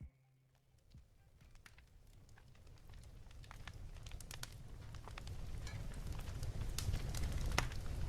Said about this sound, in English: I'm going to solo the fireplace, and I'm going to hit play for a second